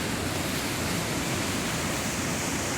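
Mountain stream water rushing in a steady, dense hiss, close and continuous with no other sounds on top.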